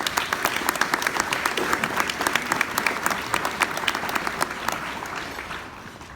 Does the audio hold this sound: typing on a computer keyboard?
no